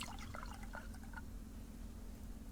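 Water is poured into a trough for farm animals in the survival video game Subsistence, a faint trickling splash heard over a steady low background hum.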